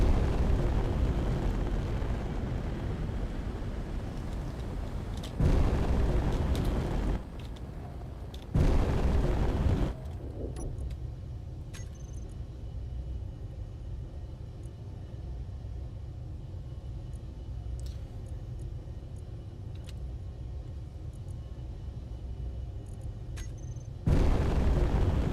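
Missile explosions in the Space Engineers video game hit as heavy, booming blasts with sustained rumble. Several loud bursts break through, followed by a long stretch of lower rumbling and a final blast at the end.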